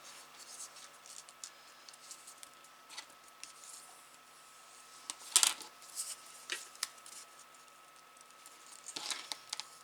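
Paper creased and folded by hand for an Easter basket, a string of soft crisp rustles and sharp little snaps spread over the span, close and fairly quiet.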